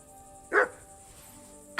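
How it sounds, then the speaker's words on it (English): A dog barks in Kingdom Come Deliverance 2, one sharp close bark followed by the start of a second, over a quiet hum. "Clever dog."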